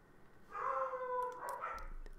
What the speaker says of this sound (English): my dog's going to start barking like crazy